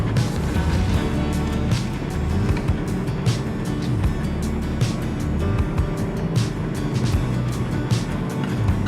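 A car drives into Moonlight Bay near Coffin Bay, South Australia, its engine and tyres giving a loud, constant rumbling roar from inside the vehicle, broken by brief gritty bursts of road noise.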